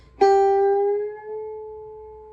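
A single plucked electric guitar note on the B string, bent up a full tone, ringing clear and sustained alone before slowly fading.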